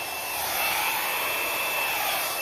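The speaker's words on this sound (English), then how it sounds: "now I'm gonna slow it down a little bit with my blow dryer" A blow dryer runs steadily on paint spread across a large canvas, a close, continuous, even whoosh with no pauses or talk.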